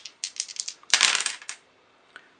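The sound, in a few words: rolling three dice in a board game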